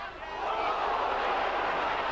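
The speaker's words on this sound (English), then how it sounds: "Certainly the crowd didn't like that." A rugby league crowd at Wigan versus Castleford in 1989/90 swells into a loud, sustained roar of disapproval, with a dense wash of massed voices rising then holding steady.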